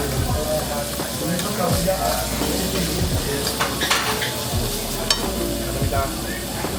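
Short rib steak pieces and grilled onion sizzle steadily on a Korean barbecue grill in a busy Koreatown restaurant, with occasional scraping and stirring of tongs and light clatter over the constant frying hiss.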